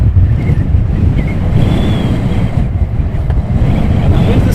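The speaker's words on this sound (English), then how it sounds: "And the wind has picked up." Wind gusting hard at Luton Airport, a loud close rumble of microphone buffeting with rising and falling surges throughout, a faint voice briefly audible beneath it.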